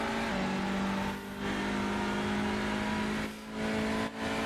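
Touring race cars lapping Circuit Zolder in SRL sim racing: a steady, loud high-revving engine drone with sustained tonal whine, briefly dipping twice as the car shifts or lifts.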